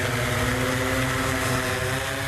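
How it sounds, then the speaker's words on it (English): Drone flying high above woods, a steady buzzing propeller whine with layered harmonic hum, continuous and fairly loud. "They're flying the drone high above the woods, mapping out a lay of the land"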